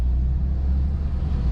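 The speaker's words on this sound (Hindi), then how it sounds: "गाड़ी को स्टार्ट कर लेते हैं" A car engine idling steadily up close with a continuous low rumble and no talk, in a car whose driver is working the clutch, brake and accelerator pedals.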